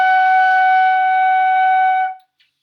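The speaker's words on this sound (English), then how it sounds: "Your new note flute is G flat" A single flute note, G flat, is held clean and steady for about two seconds before it stops cleanly, with a faint click after.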